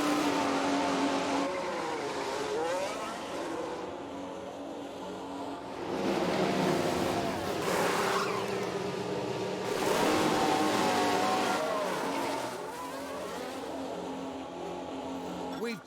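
Formula 1 race cars in the F1 Manager video game at Bahrain circuit, one running wide, with steady high engine whine and surges of revving as cars pass, continuous and fairly loud under commentary voices.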